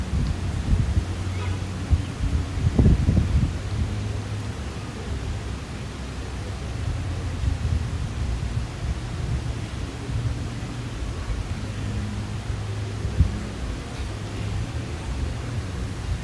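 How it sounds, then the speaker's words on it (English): Strong wind buffets an outdoor microphone at the Venice canals and beach, a steady loud roar of noise with a few thumps, lasting throughout without talk. "The sound of the wind is strong."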